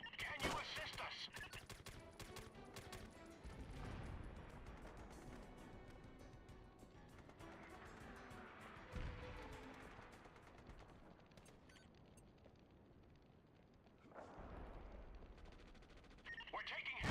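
Gunfire in SOCOM II, a tactical shooter, crackles in rapid bursts and scattered shots throughout, moderately loud with some heavier impacts, while a person talks over the combat.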